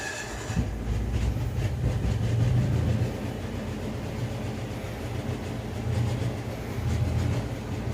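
A poorly running 7000 watt Kohler generator inside a bus drones steadily and loudly, its low rough hum wavering and surging unevenly throughout with a rattling clatter on top, no voices.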